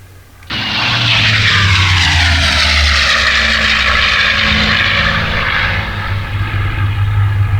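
A P-40 fighter's engine in the IL-2 flight game roars up after a short quieter start, a loud, sustained propeller drone with a sweeping pitch that holds strong to the end, with no talk.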